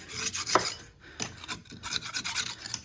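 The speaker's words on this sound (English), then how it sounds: "Scrape some of that crap out of there" A scraper rasping dirt out of a Ford Falcon XY ute's leaf spring, repeated gritty scrapes in short uneven strokes with brief pauses, close and moderately loud, no talk.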